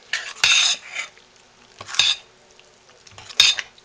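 Vegan burger mixture stirred and mashed in a bowl, three separate bursts of scraping, squelching mixing strokes about a second and a half apart, close and moderately loud with quiet gaps between them.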